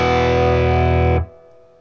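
A single distorted electric guitar chord, fretted at the fourth fret on the G string, rings out loud and sustained, then is cut off abruptly, leaving a faint fading tail.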